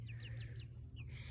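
Backyard flock of birds kept by a family, giving a few short, high chirps in quick succession close by, then a louder burst of calling, with no talking.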